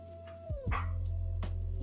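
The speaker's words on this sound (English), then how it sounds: "my dog is like choking, so you probably hear her in the background" A dog chokes and whimpers indoors with short strained yelps and gagging noises, followed by a low steady hum.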